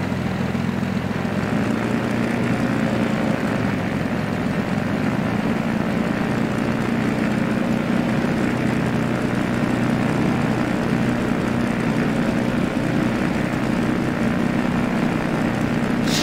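Constant, loud drone of a Siai Marchetti SF-260 propeller aircraft engine in X-Plane 11, a steady buzzing hum with no breaks throughout.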